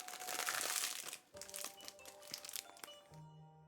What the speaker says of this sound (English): why is the noise gate picking up me rustling my cookies?